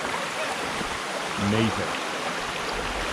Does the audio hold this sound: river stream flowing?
yes